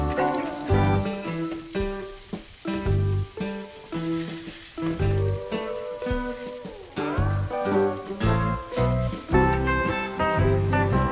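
A tomato sizzles and fries in a pan with a steady crackling hiss, set under prominent background music with no talking.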